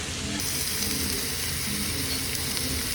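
Steak sizzling while cooking at a restaurant in Sendai, Japan, a dense, constant frying hiss that stays close and even for the whole stretch, with no voices.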